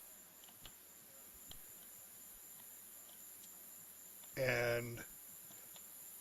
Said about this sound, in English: There's crickets.